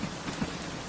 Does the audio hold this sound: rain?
yes